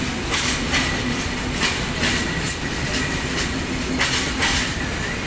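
The Chilahati Express passenger train runs with a loud, continuous rumble, a rhythmic clickety-clack of wheels over rail joints, and faint squeals heard from close by.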